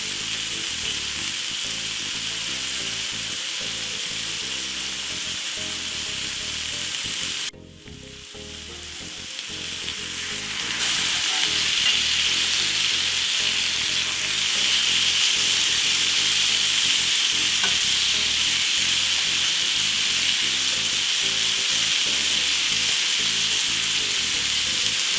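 A steak sears in a very hot pan with a loud, continuous sizzle and hiss that runs the whole time. It cuts out briefly partway through, then comes back somewhat louder and steadier.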